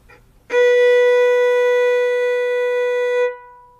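One sustained bowed violin note, B played with the first finger on the A string, rings out clearly for about three seconds, steady and bright, then stops, with silence around it.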